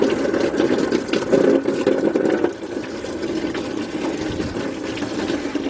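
Fluid drains from a 2003 Nissan Maxima 3.5 engine while its front catalytic converter is being replaced, a loud, steady gush that drops to a gentler flow partway through.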